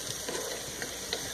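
Onions browning in a pan for French onion soup, stirred with a steady sizzle and soft scraping, close and continuous.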